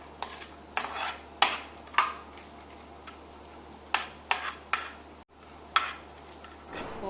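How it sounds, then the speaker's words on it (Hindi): Chopped coconut is stirred in hot ghee in a pan, with soft sizzling under it and irregular spoon taps and scrapes against the metal. "गरम घी में सेक लेंगे। हम खोपरा कटा हुआ डालने लगे।"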